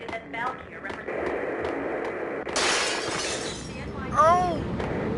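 Plate glass shatters in the video game Max Payne, a sudden loud crash with a spray of breaking shards partway through, set among game dialogue and music.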